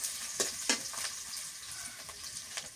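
Garlic paste sizzles in hot oil in a pan for a hilsa fish curry, a steady close hiss with a few sharp crackling pops and stirring scrapes, no talking.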